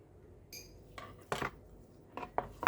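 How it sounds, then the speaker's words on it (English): Thin slices being cut through a prepared cucumber with a knife for a crab salad, a few separate soft cutting strokes and clicks against a board, close and fairly quiet with no talking. "Now let's slice our prepared cucumber"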